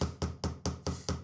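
Sharp repeated knocks on a concrete mould, six blows in a steady rhythm about a fifth of a second apart, close and fairly loud with no voices.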